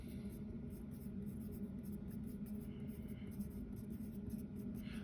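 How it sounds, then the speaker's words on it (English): Pen or marker scratching on a board while a diagram is drawn: soft, continuous scribbling strokes with faint rhythmic squeaks, close and quiet over a low steady room hum. "let's write down here"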